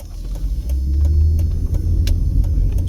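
Car driving through East Las Vegas streets, heard from inside as a steady low engine and road rumble with faint ticking clicks, no talk.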